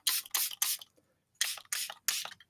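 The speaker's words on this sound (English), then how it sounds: "I'm just kind of spritzing it around." Several sharp hissing spritzes from a spray bottle misting water onto paper during a mixed-media painting session, close and alone, in quick bursts with a short pause midway.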